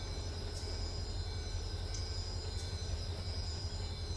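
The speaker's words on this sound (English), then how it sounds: "We got another train going underneath." Train rumbling past underneath in the Run 8 train simulator game near Barstow, a steady low roar of rolling wagons with faint periodic wheel clicks, continuous and moderately distant.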